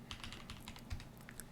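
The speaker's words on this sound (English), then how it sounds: "I keep typing lsblk because this will give me a reminder" Rapid, light keystrokes on a computer keyboard, a quick irregular patter of soft clicks, faint and close, with no voices.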